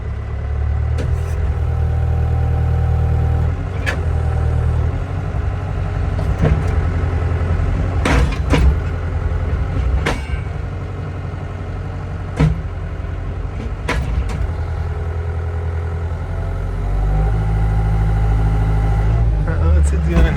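A machine drives a fence pole straight into the ground, its engine droning steadily beneath sharp, irregularly spaced metallic impacts. A nearby voice talks over the work.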